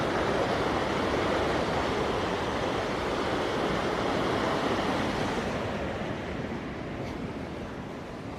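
Water flowing at a sewage treatment plant, where it runs on to three secondary units: a steady, loud, broadband rush of churning water, continuous and close, easing slightly toward the end.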